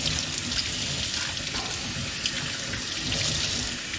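A faucet streams water onto foam filter pads from a Fluval FX6 canister filter, a continuous splashing rush at a sink, fairly loud and unbroken, with no voices.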